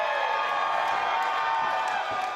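A large wrestling crowd at a hardcore match roars and chants in a dense, sustained wall of voices with whoops and cheers, loud and continuous throughout.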